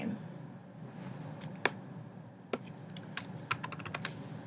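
Typing on a computer keyboard while editing a channel name in Maestro channel plan configuration software: sparse, quiet key clicks in short irregular clusters, close up, with a faint background hum.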